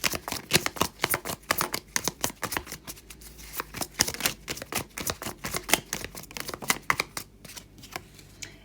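Tarot cards shuffled and drawn by hand at close range, a steady run of crisp riffling snaps and taps that goes on throughout with no talking.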